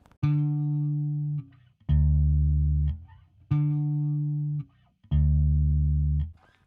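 Four long, sustained low notes on an Ibanez K5 five-string bass guitar, played on the E string, each ringing for over a second with a short gap between, clean and close with no talking.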